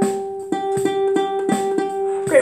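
A violin sounds a G with the third finger on the E string: a clear, sustained bowed tone repeated in several even strokes, with a slight break at each bow change.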